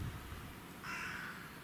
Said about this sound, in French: Corbeau.